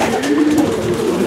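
Racing pigeons cooing inside a loft, a steady close murmur of soft overlapping coos running throughout.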